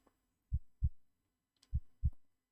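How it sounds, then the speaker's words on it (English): Heartbeat sound effect from the Alien vs Predator video game: two pairs of deep, thudding lub-dub beats, close and clear against near silence. "And it's picking up the heartbeat there really nicely"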